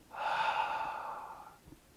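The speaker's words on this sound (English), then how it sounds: "We can consciously do that with in, out breathing." A single close breath taken during a mindful breathing exercise, an airy inhale flowing into an exhale that lasts about a second and a half before fading into quiet.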